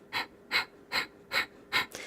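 Five sharp, forceful nasal exhales at an even, quick rhythm during a yoga core breathing exercise, each a short breathy burst close to the ear, with quiet gaps between.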